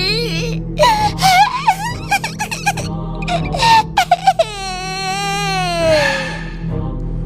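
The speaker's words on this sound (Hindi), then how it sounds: "तभी ममता को एक छोटे से बच्चे की रोने की आवाज आने लगती है।" A small child wails and whimpers in rising, drawn-out cries for a horror story, with a long sustained moan near the end over a steady low hum; the cries come close and fairly loud, without speech.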